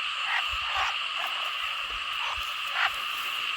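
Frogs croak repeatedly in a rain-flooded rice field at night, a chorus of short calls at irregular intervals over a steady high insect drone, with no voices.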